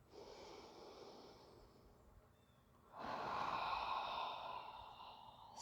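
Slow, deep breathing during a gentle yoga flow: a long soft exhale fades out, a brief pause follows, then a fuller inhale swells close to the mic and holds.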